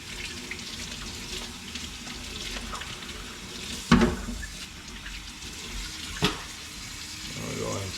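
Hot tap water runs steadily into a sink while a snorkel is scrubbed clean with soap, a continuous hiss with a couple of brief knocks and splashes from handling.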